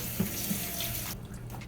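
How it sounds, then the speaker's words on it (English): Tap water runs steadily into a sink during handwashing, a close, even rush of flow that cuts off abruptly near the end. "Let's wash hands."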